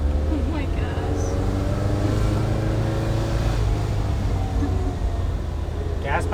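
A 1970 VW Bus with a newly installed motor, engine revving while in gear under a heavy load, a steady loud droning rumble with rising and falling tone throughout, with people talking over it.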